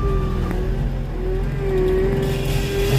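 A skid steer's diesel engine runs steadily while moving logs during tree top cleanup, a continuous low mechanical drone with a sustained tonal whine rising slightly, close and loud throughout with no talk.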